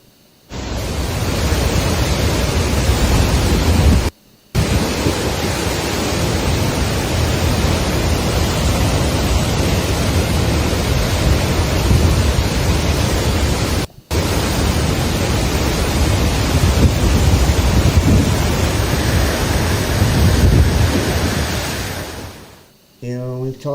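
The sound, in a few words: torrents of floodwater in New South Wales town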